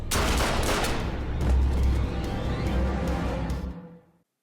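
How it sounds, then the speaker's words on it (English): Gunshots in a scene from the TV show Lucifer: a loud, rapid barrage of shots layered over heavy low rumble that holds for several seconds, then cuts off abruptly. "Those shots are deadly."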